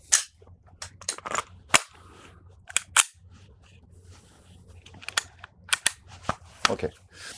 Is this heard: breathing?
no